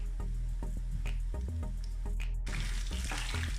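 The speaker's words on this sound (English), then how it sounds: "while the heat is just low at the moment, it's still frying really well." Steady sizzling and crackling of chicken pakoras frying in hot oil over low heat, continuous and close, with small pops and a brief splashy stretch toward the end.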